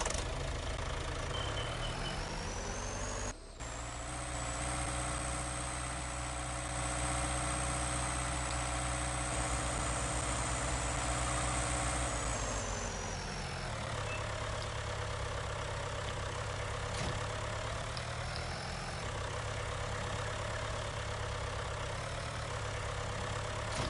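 A tractor engine idles steadily in the Farming Simulator 19 video game, giving a loud, close, continuous drone with a shift in pitch partway through and faint high whine layered on top, with no talk over it.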